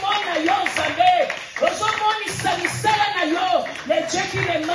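A church congregation applauds to acclaim God, a dense ongoing patter of clapping mixed with voices and a sung or chanted line throughout.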